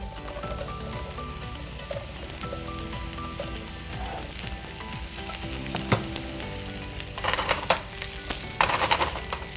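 Mushrooms and vegetables sauté in hot oil with a steady crackling sizzle, punctuated by stirring scrapes and a few louder spatters near the end, with no talking.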